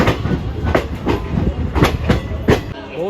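A passenger train runs along the rails near Delhi Cantt, with loud, close rhythmic clickety-clack of wheels over rail joints repeating every fraction of a second over a constant rumbling roll.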